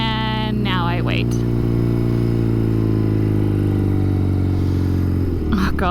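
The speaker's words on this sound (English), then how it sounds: "We started the bike." An old motorcycle engine idles steadily after starting, a loud, close, continuous harmonic drone that holds even throughout, with a brief voice near the start and some rustling at the end.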